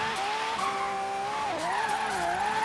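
A Lamborghini drifting in Forza Horizon 3, its engine holding a steady high whine with pitch wavering through the slide, tires squealing continuously under it, loud and close without a break.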